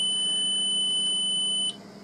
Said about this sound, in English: and the alarm sounds